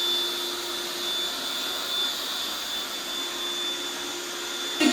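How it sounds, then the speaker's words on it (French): An Aonus wet-dry vacuum cleaner washing a floor, running with a steady, even whine and a constant hiss throughout, close and loud, with no voices. "avec cet aspirateur, c'est qu'il a un système vraiment intelligent où il va augmenter sa puissance tout seul"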